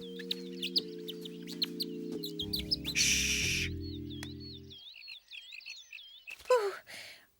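Cartoon birds chirp in quick repeated trills over a background of soft sustained music chords, with a short hushing voice and a louder squawking burst near the end.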